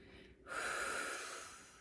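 A single heavy breath is drawn in sharply and released during an upper-body strength workout, loud and close, with no other sound around it.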